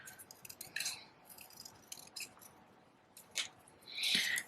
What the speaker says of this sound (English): So I'm just going to cut him out quickly.